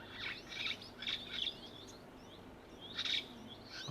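Small birds at a waterhole chirp in short, bright bursts, several quick calls in a row, then a pause and another burst, fairly close over a soft outdoor background.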